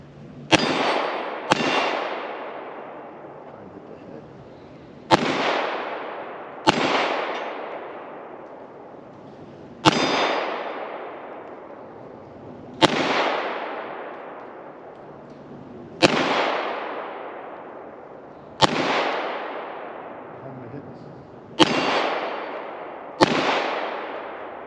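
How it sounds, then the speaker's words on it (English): A CZ-75 B pistol fires 9mm Luger rounds at steel plates, about ten sharp loud shots at irregular intervals of one to three seconds, each with a ringing metallic clang and echo that decays before the next. "Yeah, I threw 3 shots off the head."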